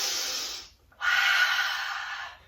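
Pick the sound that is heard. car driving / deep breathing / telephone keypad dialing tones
deep breathing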